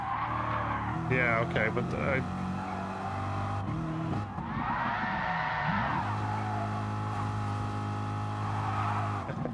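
In Gran Turismo Sport, a race car brakes hard with squealing tires and a shifting engine note, and the roar keeps going steadily throughout while someone talks over it.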